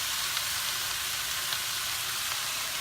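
Steady, close sizzling of brown sugar, apple cider vinaigrette, nutmeg and cinnamon in a pork chop pan, a dense continuous crackle with faint stirring ticks.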